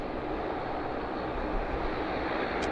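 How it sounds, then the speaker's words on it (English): An American Airlines airliner taxis out at Vancouver airport, its engines giving a steady, broad jet roar that holds even and unbroken throughout at moderate distance. "So we've got American Airlines taxiing out as well"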